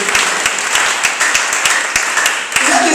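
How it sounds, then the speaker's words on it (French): Applause from a church audience at a prophet's preaching service, a dense, sustained roar of many hands clapping that stays loud and steady throughout. "Tu peux acclamer si tu comprends sincèrement."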